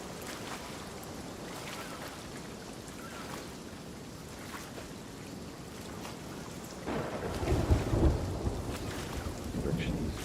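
Storm thunder in the Sea of Thieves game, heard as a steady roar of rain and wind at sea, with a deeper rumble swelling louder toward the end and no one speaking.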